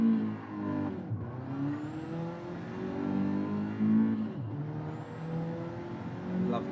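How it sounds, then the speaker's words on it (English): Turbocharged race car engine in a retro racing video game, a steady droning whine that rises and falls through gear changes on a flying lap, with brief dips between shifts. "Lovely sounding car this"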